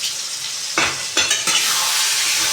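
Tomato masala frying in a pan over a gas flame gives a steady bright sizzle throughout, with a few short stirring scrapes near the middle.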